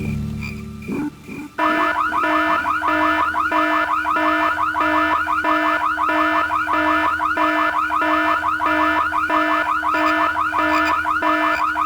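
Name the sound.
alarm from video game Full Throttle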